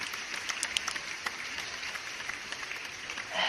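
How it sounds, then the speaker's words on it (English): Crowd applause inserted as a sound effect, a dense wash of clapping that runs steadily and alone, swelling slightly at the close. "Can you insert actual applause there, Alex?"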